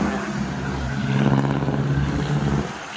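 Traffic on a highway, heard up close on a ride: a steady engine drone with rising and falling revving from passing vehicles, continuous and fairly loud.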